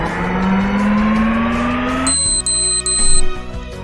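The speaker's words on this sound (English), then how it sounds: "then an alarm sounds out of the blue, and the power cuts off" An alarm in a machine in the video game Never Island blares with a rising, steady electronic tone, then breaks into higher intermittent beeping as the power cuts out, loud and close.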